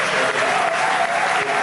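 A church congregation applauds, dense continuous clapping from many people filling the room, with a few voices mixed in.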